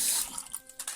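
Water poured into a small container for a cleric spell component, a brief trickling splash with a few drips at the end, close and fairly faint.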